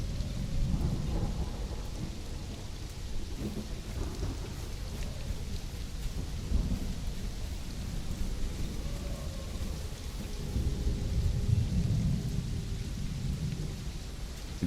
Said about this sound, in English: Thunder, the lightning coming down from the sky.